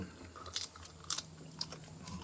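Thin, crunchy Cajun-flavored beef jerky bitten and chewed up close, three or four sharp crisp crunches spaced about half a second apart over a quiet background.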